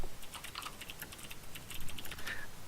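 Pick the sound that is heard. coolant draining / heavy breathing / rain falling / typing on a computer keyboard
typing on a computer keyboard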